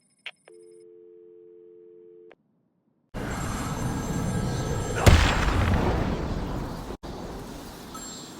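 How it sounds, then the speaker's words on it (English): A telephone rings somewhere in Batman: Arkham City: a single steady electronic ring lasting about two seconds. It gives way to a loud, rumbling ambience broken by one sharp boom, with no voices. "There's a phone ringing somewhere."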